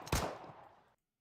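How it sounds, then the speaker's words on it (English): A single sharp gunshot in a video game cracks out loudly, then decays with a short rumbling tail before cutting to silence. "gunshot rings out."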